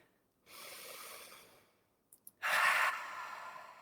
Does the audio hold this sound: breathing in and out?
yes